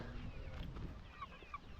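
Chickens on a layer poultry farm, housed in a large compound for about 1,000 birds, cluck steadily throughout with a couple of brief higher calls standing out over a constant low rumble.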